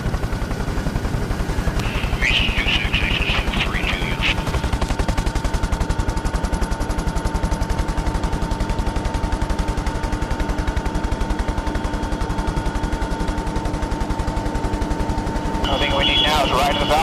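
Sustained gunfire in combat from soldiers in Kandahar, Afghanistan, as a dense continuous clatter of shots with louder bursts near the start and end, and a faint rotor or engine drone beneath; voices talk faintly under it.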